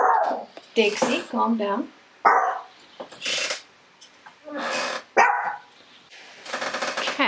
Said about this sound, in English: that's my husband coming home and the dog's giving him a very vigorous greeting